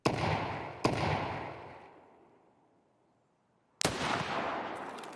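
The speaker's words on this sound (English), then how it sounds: "so we took the shot" Gunshots in the shooter game Escape From Tarkov: a loud, close report with a long rumbling echo that fades to near silence, then a second sharp blast with its own lingering tail.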